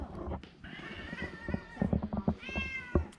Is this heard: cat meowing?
yes